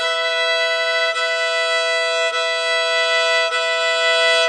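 A single sustained open E string tuning tone rings steadily with rich even overtones, held alone for several seconds with a few faint clicks along the way.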